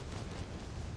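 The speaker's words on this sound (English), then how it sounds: "There's his first set of bombs." Bombs exploding in the World of Warplanes video game, a dense continuous rumbling roar of blasts filling the short moment, loud and broadband with no distinct separate hits and no talk.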